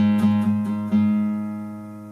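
A single new low E string on a classical guitar is plucked a few times, then left to ring and slowly fade, warm and close with no other sound.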